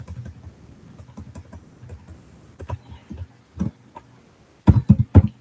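Someone types a script on a computer keyboard in irregular bursts of light, close key clicks with short pauses between, ending in a few louder, heavier keystrokes.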